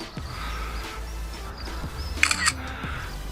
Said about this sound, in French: Je vais faire une photo d'écran.